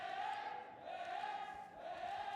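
A live crowd cheers and chants at a Fortnite esports group-stage match, a steady broad roar with tonal chanting rising and falling throughout, loud and continuous.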